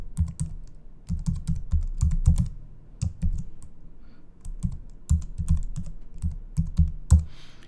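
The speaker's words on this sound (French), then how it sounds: "je peux taper mon identifiant ou mon adresse de courriel" Keys clatter close by on a computer keyboard as a username is typed, in quick bursts of crisp clicks broken by short pauses.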